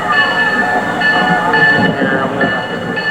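A parade float carrying a locomotive rolls past at a 1989 parade in Pierre, South Dakota, making a loud, steady rumble with a clattering, rail-like sound and high tonal whines throughout.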